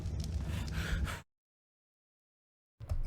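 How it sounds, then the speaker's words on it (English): Heavy, close character breathing in the Dark and Light game, a loud gasping breath that cuts to dead silence, then resumes briefly at the end. "They gotta get rid of that breathing, man."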